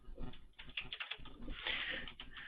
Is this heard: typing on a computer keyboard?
yes